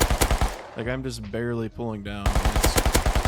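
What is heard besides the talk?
gunfire from a gun in the video game Rust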